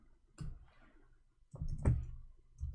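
A few sharp clicks of keys being typed on a computer keyboard, quiet and close, arriving in two short bursts separated by a pause, with no talking.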